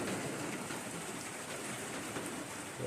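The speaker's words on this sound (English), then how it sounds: "Had lunch, and then the downpour started." Heavy rain pours steadily during a thunderstorm on the Appalachian Trail, a dense continuous hiss drumming on a trail shelter roof, loud and close with no breaks.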